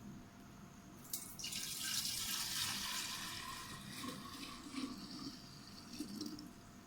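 Homemade date vinegar is poured into a freshly washed bottle, a soft, steady splashing trickle of liquid heard faintly up close for several seconds without any talk.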